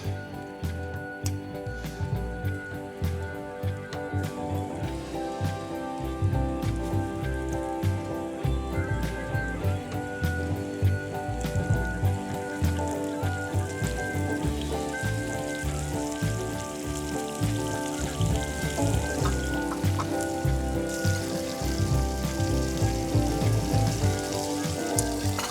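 Beef strips frying in hot oil in a pan for Mongolian beef, a steady crackling sizzle with scattered pops, continuous and moderately quiet with clinks of utensils.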